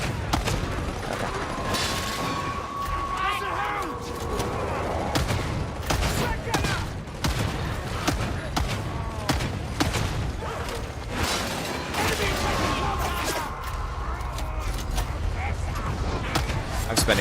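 Ranged gunfire in the video game Darktide, bursts of rapid shots crackling repeatedly over a busy mix of mechanical clatter and combat noise, with voices talking at times.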